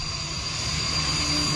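A Mirage 2000 fighter jet on the Purvanchal Expressway gives a steady, loud engine roar with a high whine, continuous and fairly near.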